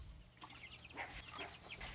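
Chickens in a small school coop clucking in short, close bursts, several overlapping calls over a faint background hum.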